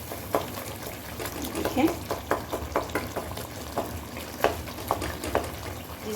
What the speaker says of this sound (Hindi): जिस साइड पे टमाटर हैं उनको साइड पे ला के ऐसे ही आप कढ़ाई में इनको मैश करते जाएं।